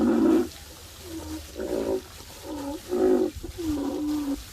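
Low, drawn-out rhinoceros moans and grunts come in several separate bursts, each rising and falling in pitch. The calls are near and clear, with no voices.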